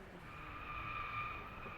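Beetle car in the Driveclub racing game locking its brakes in a turn, a steady squealing tire skid over low engine rumble, sustained and moderately loud with no talk.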